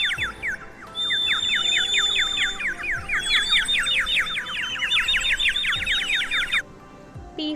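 A parrot gives a long run of rapid, shrill squawks and chirping calls. The calls are loud and close and carry on for several seconds with no talking.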